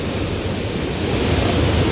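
The Mandakini river rushes past Rambara on the Kedarnath route in a steady, loud, broadband roar of fast water, continuous and close with no voices.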